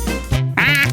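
A goose gives loud, close quacking, two or three nasal honks in quick succession with no voices over them.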